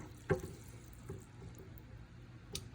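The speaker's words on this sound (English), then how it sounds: "Let's drop them in the water and see what they do." Homemade fishing bobbers splash into a bucket of water, a sharp plop near the start and another near the end, with faint sloshing and drips between.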